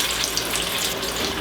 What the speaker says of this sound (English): We will slowly but surely put our fries in.